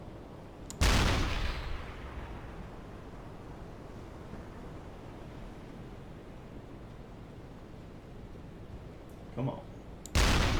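Submarine deck gun in the UBOAT video game firing at a ship, heard as two loud, booming blasts at start and end separated by a long stretch of steady wind and sea noise, with a brief spoken remark.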